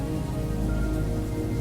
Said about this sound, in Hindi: फिर घनाघोर वर्षा प्रारंभ हुई